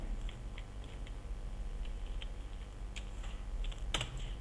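Quick, light keystrokes on a computer keyboard as a name is typed into an Excel 2007 sheet, a run of soft close clicks over a steady low hum, ending in one sharper tap.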